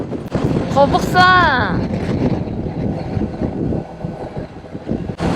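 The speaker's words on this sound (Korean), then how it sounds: "와, 바람 짱세." Strong seaside wind buffets the microphone on a coastal stop along a liter-class motorcycle trip to Namhae, South Korea, a steady broadband roar that persists under a short burst of excited talk near the start.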